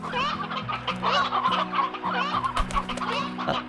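Chickens cluck continuously in a video game coop fitted with a chicken TV, several birds chattering over a steady low musical hum with no talking.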